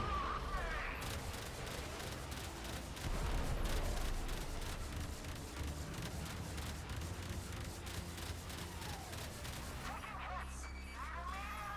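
Missiles firing in the Warframe video game make a steady stream of rapid, crackling blasts and impacts, loud and sustained, with a brief sweeping whoosh near the end.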